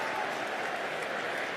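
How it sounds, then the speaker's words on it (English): A stadium crowd at an NFL game between the Los Angeles Chargers and Cincinnati Bengals roars in a dense, continuous wash of noise that stays even and fairly distant for the whole stretch. "The roar makes it seem like maybe there's an offensive penalty here. That was the reaction from the crowd."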